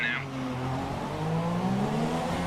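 A Formula One car in F1 2017 pulling away from the pit lane speed limiter during a race, its engine note rising steadily and droning close by for a couple of seconds.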